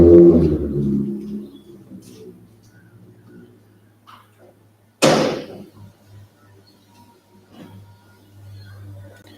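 A shed door swings open, marked by one loud sharp clunk midway, after a low rumbling start and soft scattered knocks, with a faint steady hum beneath.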